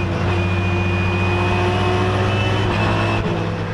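A Porsche and a BMW race at Zolder circuit, a loud steady engine drone close by with a rising pitch and a brief dip near the end, no voices.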